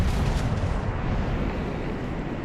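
Main guns of the Japanese battleship Hyuga firing in a World of Warships battle, a heavy, continuous roar of artillery and blasts that fills the whole stretch, loud and dense with no voices.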